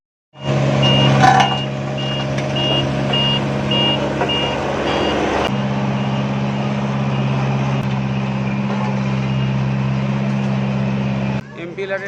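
A road roller compacts a freshly laid road, its diesel engine droning steadily up close while a reversing alarm beeps in a regular series early on, then the machine rumbles on before cutting off; voices talk underneath.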